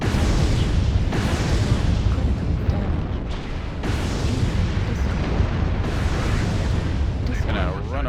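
MechWarrior Online battle with incoming missile fire, a run of heavy booming explosions and blasts rolling one after another, with game voice alerts and a player talking over the action.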